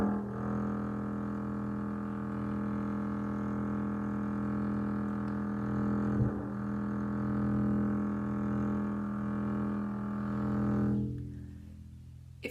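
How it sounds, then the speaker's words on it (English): The low E string of a double bass is bowed for tuning in a long, sustained, even drone that holds steady for about eleven seconds before fading out. The tone is deep and hums quietly with no voices over it. "E string, which is the hardest one to tune because it's so low."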